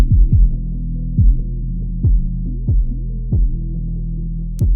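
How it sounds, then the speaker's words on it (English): Saturated, compressed bass hits processed through the FL Studio Maximus plugin: heavy, loud low thumps with a sustained droning tail, repeating about every three-quarters of a second with no other sound. "As you can hear some of the saturation being pushed down into the compression"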